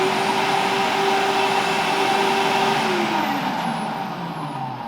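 A Hyundai HYCH2800ES electric garden shredder runs with a steady, loud motor roar and a continuous drone, heard close up with no voices.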